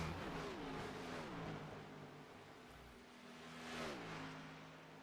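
Race cars lap an oval circuit, engines droning loudly with rising and falling pitch as they sweep through the turns, one swelling pass near the end, no talk.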